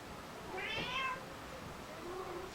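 A cat gives one clear, fairly faint meow with a softer trailing cry afterward against a quiet room hiss.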